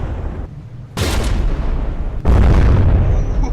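Shells striking a frigate's secondary gun in the naval combat game From The Depths: two loud, booming impacts about a second apart, each leaving a rough, rumbling tail.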